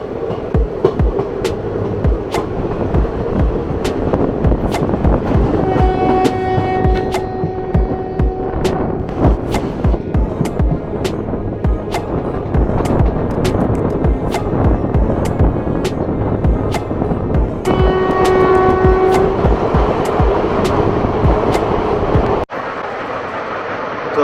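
Dehradun Express passenger train in motion, heard from inside a general-class coach: a steady loud rumble with rhythmic wheel clatter and a low throb, with tonal whines rising twice, until the noise drops suddenly near the end.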